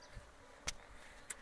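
Swarm of honeybees, a faint low buzzing drone broken by a couple of short sharp clicks or bumps close by.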